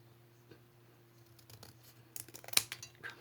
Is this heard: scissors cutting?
yes